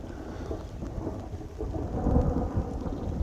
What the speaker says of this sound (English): The sound of the thunder in my headphones, it's so loud